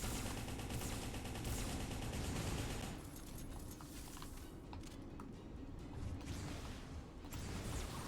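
Gunfire from mech weapons in the video game M.A.S.S Builder, a dense rapid burst of shots for the first three seconds, then quieter scattered impacts and mechanical movement that build again near the end.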